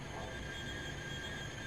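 A train in the SimRail simulator goes into emergency braking, giving a steady metallic rumble with a faint high wheel squeal held throughout, quiet and continuous with no voices.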